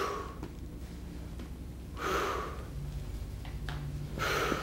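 A person exhales forcefully during a shoulder press, two or three audible breath bursts spaced a couple of seconds apart over a faint background hum.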